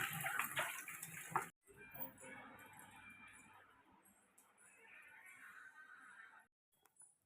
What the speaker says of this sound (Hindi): तो आप देख सकते हो ये वाली सब्जी हम लोग लेके आए हैं, तो मैं फटाफट से धो लेती हूँ बस